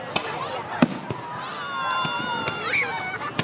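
Fireworks at Umatilla Landing Day burst in sharp, scattered bangs at irregular intervals, with rising whistles, while people talk and react nearby.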